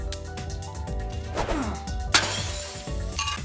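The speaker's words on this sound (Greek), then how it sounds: "Δεν έσπασα απλώς τα γυαλιά μου." A pair of eyeglasses shatters with a sudden bright crash of breaking glass midway through, set against a dense, loud musical backdrop that continues before and after the break.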